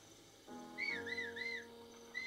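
Link whistling to call Wolf Link in Zelda: Breath of the Wild, a short series of rising-falling whistle notes over a soft game music bed, clear and alone.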